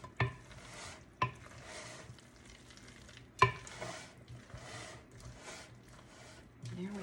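Tuna macaroni salad with egg being stirred and folded in a bowl, giving soft wet squelching scrapes with a few sharper utensil knocks against the bowl, close and moderately loud.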